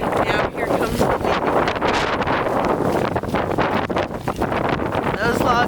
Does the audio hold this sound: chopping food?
no